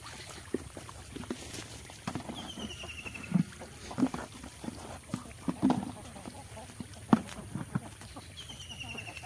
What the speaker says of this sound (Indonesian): ini kita lihat bagaimana ikan kita memakan pakan buatan kita sendiri